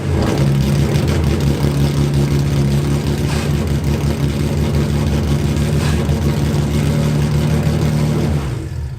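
Cammed Infiniti G35 engine rumbling loud and steady on its first drive after a rebuild, a deep lopey idle-to-light-throttle drone held close for several seconds before easing off at the end.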